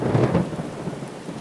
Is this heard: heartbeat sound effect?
no